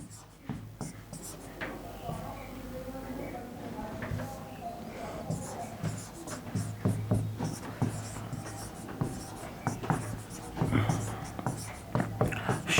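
A teacher writes notes on a board in a Hindi grammar class. Chalk or marker taps and scratches come in quick irregular strokes throughout, under the teacher's continuous talk.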